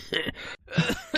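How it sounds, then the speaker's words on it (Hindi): A boy wakes up coughing hard in the morning: several rough, throaty coughs close by, split by a short silence in the middle. "सुबह जब उसकी नींद खुली तो वो जोर जोर से खांस रहा था"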